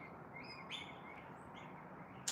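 Sulphur-crested cockatoos give a few thin, faint calls from a distance over a steady, hissing outdoor background, with a sharp squawk at the end.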